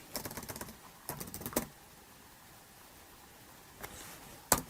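Quick bursts of computer keyboard keystrokes, typed into a search engine, come in two clusters near the start, then a pause, then a few more taps; close and fairly quiet, with no talking.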